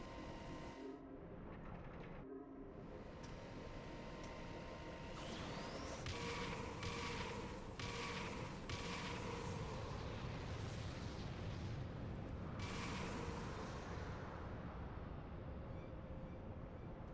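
Artillery fire in the video game Final Fantasy XIV: a run of heavy booming blasts over a continuous deep rumble, loud and sustained, with several strong bursts crowding together partway through.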